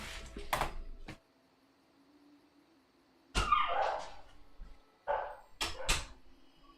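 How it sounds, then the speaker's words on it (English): Dogs bark in several sharp bursts, a couple of quick yips at first, then a gap before more barks and a whimpering whine, all at moderate distance. "My dogs are freaking out."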